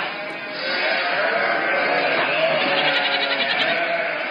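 A dense crowd of goats bleats continuously, many overlapping wavering cries merging into a loud, sustained chorus that swells after a brief quieter start.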